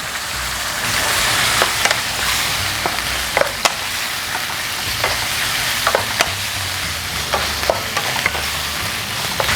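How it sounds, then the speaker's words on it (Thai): Pork belly and long beans stir-fry in red curry paste in a pan, giving a loud, steady sizzle broken by frequent scraping clicks of a utensil stirring, close and continuous with no voices. "ใส่ถั่วฝักยาวลงไปค่ะ"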